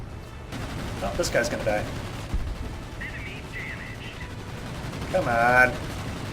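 Corsair plane guns firing in War Thunder, a rapid low rattle of bursts running under an engine drone, with someone talking over the firing.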